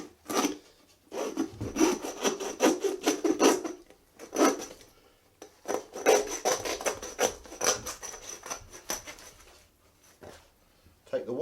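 A hand saw rasps back and forth through a roe deer carcass being butchered, loud rhythmic strokes in bursts with short pauses between, close up and dry.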